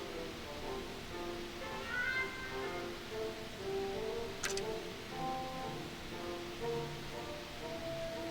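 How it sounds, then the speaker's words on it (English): A cat in The American Dream video game gives a couple of short meows over a soft, washy background hiss, fairly faint, with a brief sharp click partway through. "Hey, is that Mr. Cinnamon? Get out of the way, you stupid cat."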